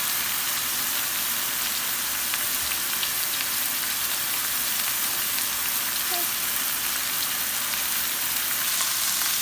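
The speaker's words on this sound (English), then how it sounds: "Alright, that's been searing for about 3 minutes." A roast sears in a hot pan with a steady, dense, crackling sizzle that stays even and close throughout, no other sound over it.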